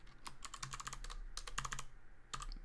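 Rapid keystrokes on a computer keyboard come in quick bursts of clicking separated by short pauses, close and clear over a faint steady hum with no voices.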